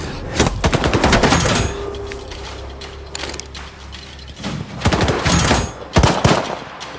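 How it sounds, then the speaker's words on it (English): Gunfire in the video game Stalker 2 comes in rapid automatic bursts, loud and close, with brief pauses between volleys and a faint steady hum beneath. "Why are they shooting at us?"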